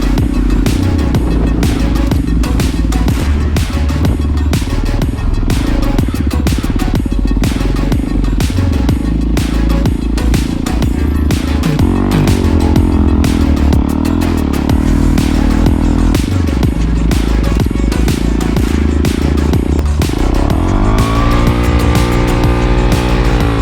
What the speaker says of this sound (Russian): даже при таком маленьком количестве снега, вон, видите, мотик зарывается полностью